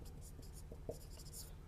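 Marker or chalk strokes scratch faintly across a board in short, intermittent bursts while a maths equation is written out, quiet and close.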